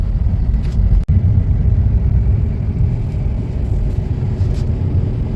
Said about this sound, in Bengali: টপো আপাতত ড্রাইভ করছে।